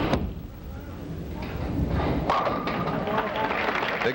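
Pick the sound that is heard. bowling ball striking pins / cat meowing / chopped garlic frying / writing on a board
bowling ball striking pins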